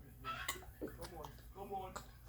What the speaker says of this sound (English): The bird's going mad